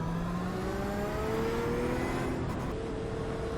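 Porsche 911 RSR race car engine in a racing game at Lime Rock, a steady mid-level drone with rising harmonic whine as it accelerates, heard alone without talk.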